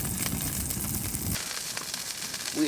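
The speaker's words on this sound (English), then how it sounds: "we're getting this burger cooked here" A burger frying inside a heated winter camping tent beside a frozen river, steady loud sizzling and crackling that drops away partway through, leaving quieter ambient noise.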